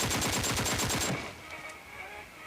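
Rapid burst of automatic gunfire in PUBG Mobile, fired aimed down a scope: about a dozen evenly spaced loud shots for one second, then stopping with a faint ringing tail.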